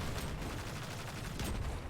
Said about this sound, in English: We're going to start out by shooting these bombs on the wall